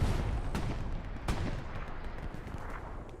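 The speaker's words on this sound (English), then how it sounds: "Almost gets hit by artillery" Artillery barrage in the Hell Let Loose war game, a dense rumbling wash of distant booms with a couple of sharper blasts standing out over continuous low battlefield noise.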